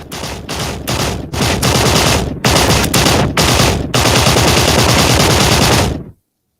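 Rapid bursts of video game gunfire, loud and close, firing in repeated automatic volleys separated by brief gaps before cutting off abruptly.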